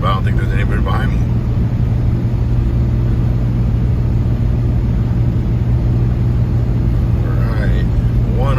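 Ram 3500 single-rear-wheel pickup towing a 14k 5th wheel trailer on a highway in 100-degree heat, a steady loud engine drone and road rumble heard from inside the cab, with a voice briefly at the start and end.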